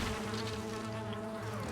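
A steady, close swarm of bees drones around a bee nest in the video game Valheim, a dense, continuous buzzing hum with no voices over it.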